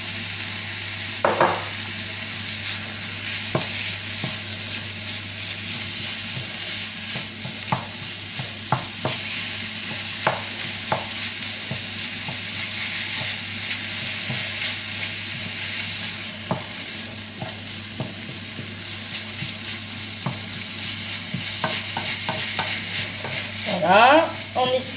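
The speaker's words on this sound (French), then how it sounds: "Voilà, on essaye au maximum d'émietter la viande." Minced beef sizzles steadily in a frying pan while a utensil repeatedly scrapes and breaks it up, with intermittent clicks of metal on the pan over a constant broadband hiss; no talking.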